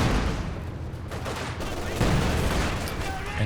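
MG42 machine gun bursts rattle amid the din of battle in the strategy game Company of Heroes 2, dense continuous fire with booms, a commentator talking over it.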